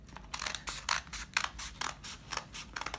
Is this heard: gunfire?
no